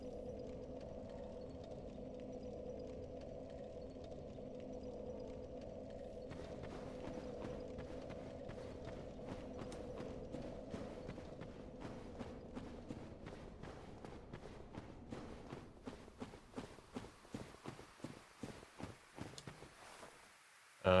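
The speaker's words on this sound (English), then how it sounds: "How do the sounds of your footsteps change if you walk into a barrier?" Footsteps in the video game Dark Souls start slow and soft over a steady low hum, then quicken into a rapid, evenly spaced patter that grows more distinct toward the end.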